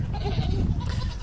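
A goat named Fern bleats on a small farm, a single wavering call heard close and moderately loud over low background rumble.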